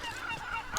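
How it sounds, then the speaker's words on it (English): Gulls calling on the Peñon d'Ifach limestone rock in Calpe, Spain, a short honking, nasal cry heard outdoors against wind and ambient noise. "all around me are basically gulls and gammets"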